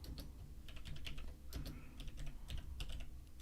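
Steady typing on a computer keyboard: a dense, continuous patter of close key clicks with uneven rhythm and a few heavier strokes, no voices over it.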